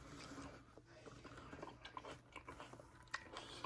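A ripe black cherry tomato bitten and chewed close up, faint soft crunching and wet mouth sounds in a quiet room.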